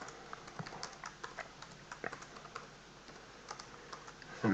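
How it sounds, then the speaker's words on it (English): Someone types on a computer keyboard, producing a quiet, irregular patter of light key clicks up close, with a faint steady room hiss beneath. "So I'm just going to type a few tasks down the bottom here"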